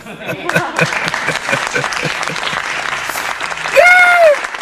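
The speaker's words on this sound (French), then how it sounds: "Ça se félicite ou pas? Vos ovations là-bas." Audience applause and ovation, dense and sustained for the whole stretch, joined near the end by a loud rising whistle, with scattered crowd voices mixed in.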